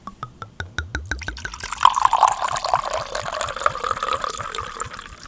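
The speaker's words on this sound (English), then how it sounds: "Time for the pour." A drink is poured into a container, starting with a quick run of rhythmic glugs that settle into a steady, close splashing fill lasting several seconds.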